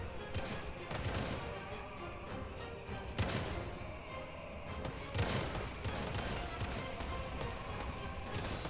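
Bombards firing back and forth in a medieval war video game, with dense, repeated booming impacts layered over a constant clatter of battle that stays loud for the whole stretch.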